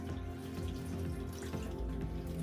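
Chunky homemade spaghetti sauce pours over a pan of vegetables for spaghetti and meatballs, a steady close wet glugging and dripping that runs unbroken for a couple of seconds with no talking.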